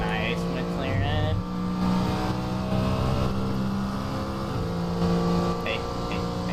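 McLaren GT3 race car in a racing video game, a sustained loud engine note with steady harmonics and slight pitch shifts, accompanied by a voice speaking over it.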